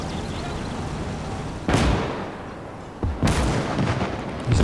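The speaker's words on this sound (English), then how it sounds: "Oh, that's bad, they're taking fire." In the strategy game Gates of Hell, heavy battlefield gunfire booms out in two loud, sharp blasts over a constant rumble of combat.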